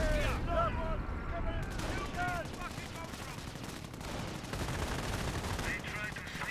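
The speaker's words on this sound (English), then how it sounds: "Here comes another artillery barrage." Artillery barrage in a Company of Heroes 1 battle: dense bursts of gunfire and machine-gun rattle with booming impacts, loud and continuous, while a voice talks over it.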